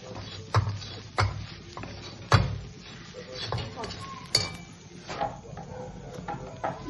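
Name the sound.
dry fruits and coconut roasting, stirred in pan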